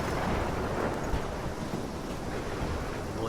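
Wind howls over pounding surf in a video game storm, a thick unbroken wash of noise with low rumbling.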